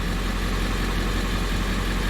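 A 1998 Ford E350 Econoline van's 7.3-liter diesel engine idles close by, with a loud, steady, dense clatter and rumble that does not change and has no voices over it.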